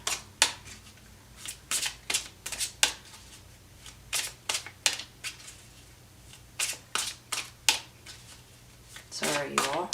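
Tarot cards being shuffled by hand in a series of sharp, crisp riffling bursts with short pauses between them, close and clear over a faint background hum.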